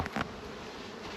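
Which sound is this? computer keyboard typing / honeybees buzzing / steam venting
honeybees buzzing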